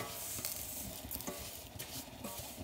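Butter sizzling and browning in a pan for a Lebanese stuffed courgette and vermicelli rice dish, a steady close crackling fry with light stirring scrapes and no voices.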